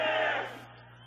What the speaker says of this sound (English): You hear the crowd in the background.